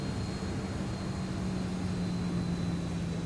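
Steady roar of aircraft engines under thrust in a flight simulator game, a continuous low rumble with a thin high whine held throughout, loud and alone with no talking.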